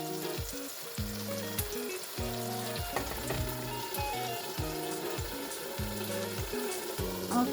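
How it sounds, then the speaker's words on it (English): Tomatoes, red bell pepper, ginger and garlic stir-fried in a pot for jollof rice, a dense close sizzle with rhythmic stirring scrapes repeating steadily throughout. "So I will stir fry it a bit, then cover it and allow it to cook for a while."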